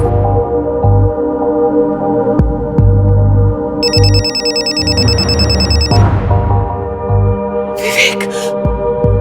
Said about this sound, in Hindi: सर कंचन जी के फोन पे विवेक का नंबर फ्लैश हो रहा है।